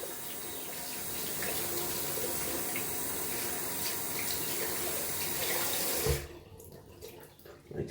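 Shaving brush knot rinsed under a running tap, a steady splashing stream of water for about six seconds that then stops, leaving a few faint drips and handling sounds.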